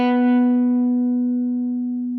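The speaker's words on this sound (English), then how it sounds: "take the exact same A, sample it, speed it up to make it sound an octave higher. And let's compare that with a real high A" A sampled A note pitched up an octave by speeding it up, ringing as a single sustained tone with clear harmonics and a slow fade, steady and close.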